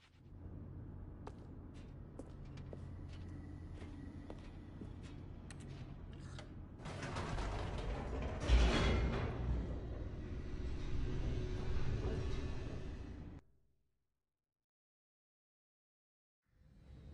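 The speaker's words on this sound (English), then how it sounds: "The elevator raced downward, plummeting towards an unknown fate." A lift in The Stanley Parable descends with a steady low mechanical rumble and hum, which swells into a louder rushing whoosh partway through, then cuts off abruptly into silence.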